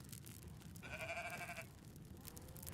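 A goat in the farming game Farmer's Life lets out a single short, clear bleat over quiet background ambience.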